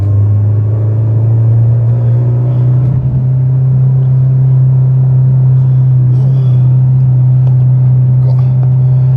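Manual car with no air conditioning driving on a road in Kampot, Cambodia, heard from inside as a loud, steady low engine and road rumble with faint clatter, lasting throughout.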